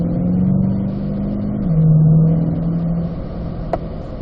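A car accelerates on a lead-follow drive. Its engine hum holds a steady drone, dips slightly as the gear changes, and then carries on, loud and close, with no talking.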